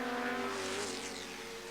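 A Chevron 2-litre race car at Brands Hatch, its engine a faint, sustained high-pitched whine with a slowly shifting pitch, heard at a distance.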